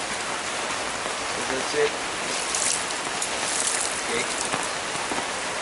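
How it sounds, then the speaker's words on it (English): Rain falls steadily on surfaces around a bonsai garden in Iligan, a dense, even patter that fills the whole stretch while someone speaks briefly over it. "So maybe I'll go somewhere else and enjoy the rain."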